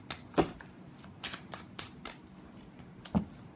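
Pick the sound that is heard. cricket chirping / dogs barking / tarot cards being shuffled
tarot cards being shuffled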